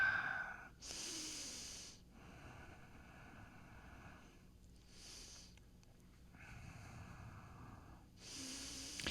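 Soft, slow breathing during a yoga session: several airy breaths, each lasting about a second, separated by quiet pauses and heard close and faint.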